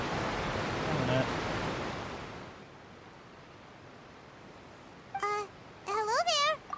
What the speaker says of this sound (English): Wow, the water's really loud